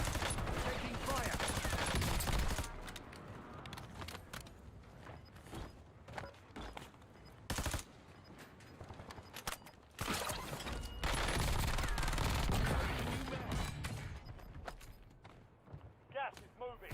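Bursts of gunfire and explosions in Call of Duty on Rebirth Island, loud and crackling in repeated volleys, with voices talking over them.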